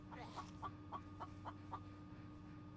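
A chicken clucks in The Infected V 23.0 video game, a faint series of short, evenly spaced clucks over a low steady hum.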